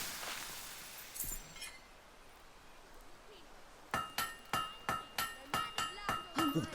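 In a Fable III forge, a hammer strikes a blade in a quick series of bright, ringing metallic clangs, about a dozen evenly spaced blows following a stretch of quieter game ambience.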